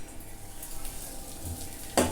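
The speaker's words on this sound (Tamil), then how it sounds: "இது கொஞ்சம் நல்லா வறுத்துக்கணும்." Something roasting in ghee in a pan, a faint low sizzle with a brief metallic clink of a utensil near the end.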